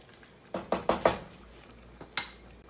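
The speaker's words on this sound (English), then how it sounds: "Let me get that stirred in a little bit." A utensil stirring broth into a thickening coq au vin sauce in a pot, with a quick run of four close metallic clinks and knocks, then a pause and two more scrapes against the pot.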